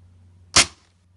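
An airsoft shotgun shell firing BBs through a chronograph, a single sharp, close pop with a brief hiss of decay over a low steady hum.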